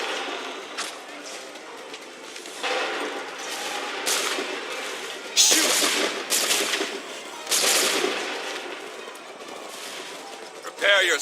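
Musket volleys in Assassin's Creed 3, several loud, broad cracking bursts spaced a second or two apart, with voices shouting between them.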